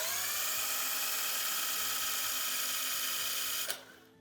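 A handheld electric drill spins a three-phase motor for a DIY wind turbine rectifier test, giving a loud, steady high whine with low rumbling for about three and a half seconds before cutting off abruptly.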